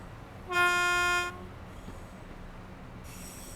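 A train horn sounds in Train Sim World 2 as a train departs Glasgow Central on the Cathcart Circle Line, one loud sustained blast of under a second over a low rumble of running gear.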